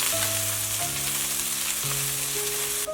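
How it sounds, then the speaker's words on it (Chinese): Aromatics sizzle loudly in hot oil in a wok for an eggplant stir-fry, a steady close crackle with no talk. Sustained background music tones sit beneath it. "油热放入小料爆香"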